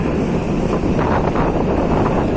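Strong wind buffets the microphone at Bakauheni harbour in Lampung at night, with a steady loud roar and some water and boat rumble beneath it.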